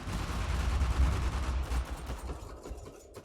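Rapid gunfire during an Uncharted multiplayer match: dense, overlapping bursts of shots that stay loud and steady, then thin out slightly toward the end, with no talking.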